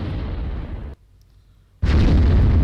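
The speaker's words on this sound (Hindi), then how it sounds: "बमबारी हो रही है" Heavy artillery fire from a Malka cannon booms loudly, with a sustained roaring blast, a brief near-silent gap, then another powerful blast.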